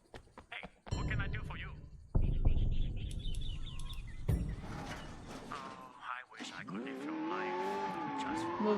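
A car in the Sleeping Dogs game starts up and revs, engine climbing and wavering, with sharp tire squeals and skids rising near the end; game sound effects and brief noises precede the drive.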